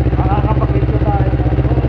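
A motorcycle engine idles close by in a steady, even low rumble with a fine regular pulse, and someone talks briefly over it.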